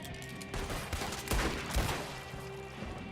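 Gunfire in the video game Red Dead Redemption 2, a few sharp shots and bursts spread over a few seconds against a low background.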